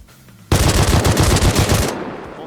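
A fully automatic AK rifle in the game Rust fires a loud, close burst of rapid shots lasting about a second and a half, then cuts off sharply into quiet.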